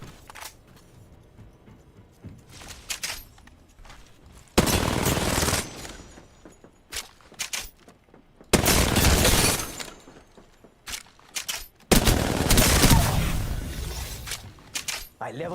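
Bursts of automatic gunfire in a video game, fired from the hip, come in three long loud volleys separated by quieter stretches with scattered clicks and game effects.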